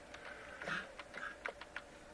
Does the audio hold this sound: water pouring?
no